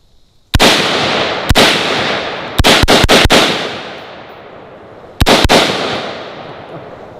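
Sharp rifle shots ring out against AR-500 steel plate targets, about nine loud reports in uneven clusters, some doubled as the round strikes the steel, each followed by a long decaying echo.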